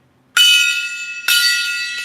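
A bright metallic gong sound effect strikes twice, loud and close, each hit ringing on with a shimmering sustain, and the second hit lands about a second after the first.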